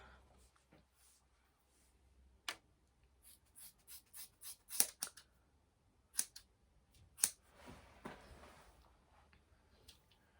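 Scissors snip the lace off a Pixi bob cut wig, with a series of short, sharp, quiet cuts spaced irregularly in a nearly silent room, some in quick bursts and others isolated.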